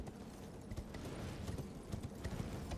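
Horse hooves gallop across open ground in Elden Ring: Shadow of the Erdtree, a faint, steady, rhythmic run of soft thuds heard distantly, with no voices.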